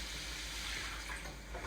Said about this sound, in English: We're going to add a cup of water to this,